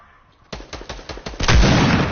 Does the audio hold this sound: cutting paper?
no